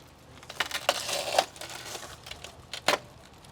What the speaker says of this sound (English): Grab a shard of glass out of there.